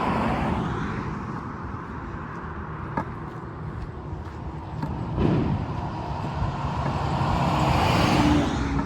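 Steady road traffic rumbles past a pedestrian walking through Quebec on a sunny Friday afternoon, with cars and trucks droning continuously and a few passing vehicles swelling louder nearby.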